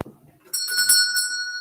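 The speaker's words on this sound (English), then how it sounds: "The bell invites me." Bright electric bell ringing at a primary school stage production of Macbeth, a single sustained metallic ring with pulsing repeats after a short quiet thump, no voices.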